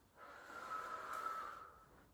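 A single long exhale through the nose during a stretching exercise, a soft, close breath that swells and fades over about a second and a half, with no talk.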